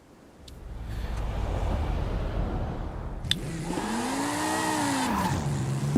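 BMW M2 drifting in Forza Horizon 5: engine builds from quiet to a steady roar, then sweeping revs rise and fall as the car slides, with tire squeal mixed in, close and continuous.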